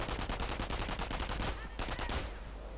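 MG42 machine gun in a World War II strategy game, long rapid bursts of ripping automatic fire with a brief pause before another close stream of shots.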